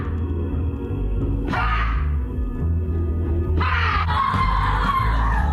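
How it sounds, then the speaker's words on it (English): Women screaming during a rage ritual, where participants smash sticks in the woods: two long, loud, strained screams rise over a dense rumbling background with some reverberation. "Women are paying big money to scream, smash sticks in the woods."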